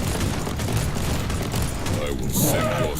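Sentry guns in Warhammer 40,000: Inquisitor - Martyr crackle in a dense, rapid burst of fire that runs throughout, mixed with booming impacts and a bright metallic flare near the end.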